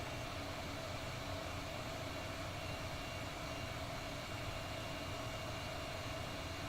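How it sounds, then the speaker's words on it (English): A heat gun blows air at full power to warm a circuit board, a steady broadband whooshing roar that stays constant from start to finish without a break. "I'll pop on the heat gun. We'll have air at full"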